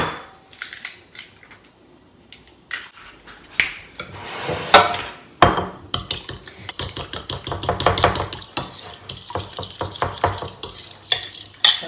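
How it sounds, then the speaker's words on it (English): Egg being beaten for banana bread batter, a whisk or fork clattering rapidly against a bowl in dense, uneven bursts that build in intensity, close and fairly loud with no talking. "we're going to beat our egg"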